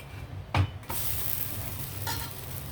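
A thick sponge dosa on a hot pan is flipped with a soft clatter, then a steady close sizzle of frying continues.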